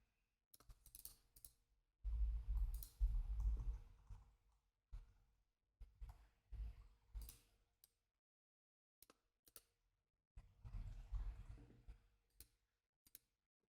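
Short bursts of computer mouse clicking while working in 3D product-rendering software, sharp dry clicks in irregular clusters with quiet gaps, close and fairly soft, no voices.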